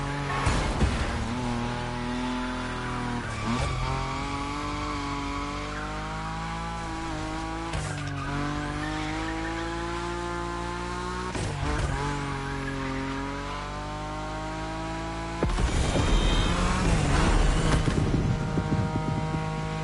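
BMW M5 Drift Edition in the video game The Crew Motorfest drifting, its engine revving and shifting pitch over sustained tire squeal, loud and close, with a harsher surge near the end.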